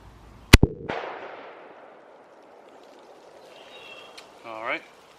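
A 6.5 Creedmoor rifle firing full metal jacket rounds at a tree outdoors: two sharp, loud shots in quick succession, each followed by a long rolling echo that fades away, then a brief faint tone near the end.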